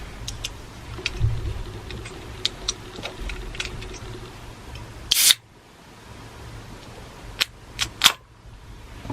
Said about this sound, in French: je vais ouvrir ma canette sur le micro